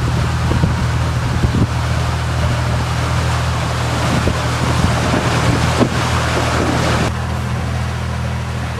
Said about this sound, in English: So we have a Dutch sailing barge.